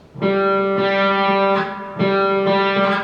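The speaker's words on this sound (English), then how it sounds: "And then we're going to play the open string, the G. So it'll sound like this." A single guitar open G string rings out repeatedly, plucked about three times with long sustained, slightly processed tone, loud and close with no talking.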